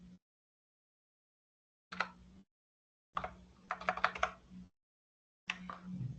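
Keystrokes on an unfamiliar computer keyboard come in three short bursts of quick, close clicking and tapping, separated by silent gaps, with the middle burst the longest and busiest.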